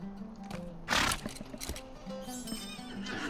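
A horse whinnies once in the Lord of the Rings Online game, a short bright neigh rising over quiet background sound, with faint hoof clatter and ambient game noise around it.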